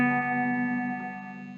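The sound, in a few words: banjo G string with guitar pickup humming through Fender Deluxe Reverb amp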